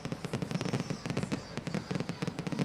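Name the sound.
fireworks exploding outdoors during a celebration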